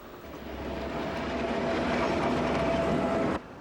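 Railway cars roll past a crossing at a station during shunting in Incheon, a steady loud rumble of wheels with faint clacking and a thin squeal, ending abruptly as the cars clear.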